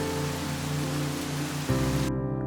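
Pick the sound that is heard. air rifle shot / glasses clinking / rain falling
rain falling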